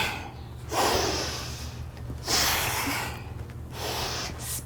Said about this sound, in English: Exhale out through the nose,